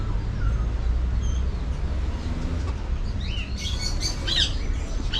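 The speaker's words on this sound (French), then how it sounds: "Ça c'est vraiment les perroquets qu'on voit dans les films" Parrots at a spot in Kinshasa give bright, scattered chirps and squawks that grow busier toward the end, set over a steady low rumble of background noise.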